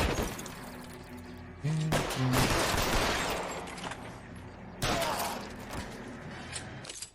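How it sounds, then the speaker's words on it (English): Gunfire from the L.A. Noire video game crackles in several bursts, with sharp shots and shattering debris layered over a game soundtrack and a brief voice. "You did the gun thing. Shot all the baddies."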